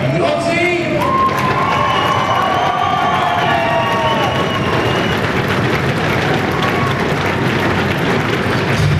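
A cabaret audience at a Sousse hotel in Tunisia cheers and shouts loudly and without a break, with whoops and high voices layered over a dense crowd roar.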